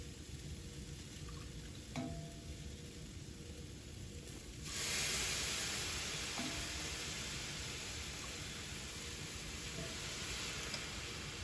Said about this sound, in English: here we are still cooking the rice, okay, in the leeks